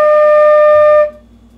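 A single sustained flute tone on the note D, played with steady breath support, loud and clear with strong overtones for about a second before cutting off, leaving a low hum.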